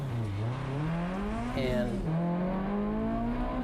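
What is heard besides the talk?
race car taking off from the starting line at Road America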